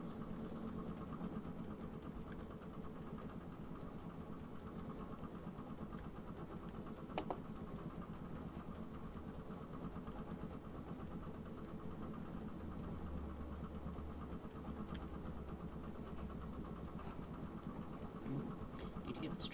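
A tractor engine idles in a steady, low, rumbling drone that holds evenly throughout with a faint rhythmic pulse, with a single brief click partway through.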